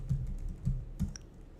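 Computer keyboard being typed on in short bursts of a few soft, clicky keystrokes, close up and fairly quiet, with no talking.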